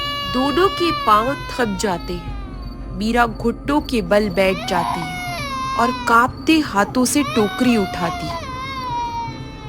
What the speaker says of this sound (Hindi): ये तो बच्चे के रोने की आवाज है।